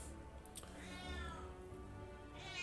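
A pet cat meows in a drawn-out, complaining tone, faint and somewhat distant against a quiet room, with a second whiny cry near the end.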